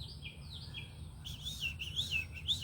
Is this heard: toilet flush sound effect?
no